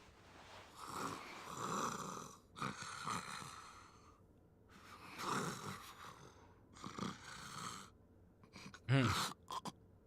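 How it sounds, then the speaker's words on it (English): A character in a Yakuza video game snores in slow, rasping cycles, each drawn-out breath followed by a pause, ending with a sharper snort. "he went to sleep fast and he snores"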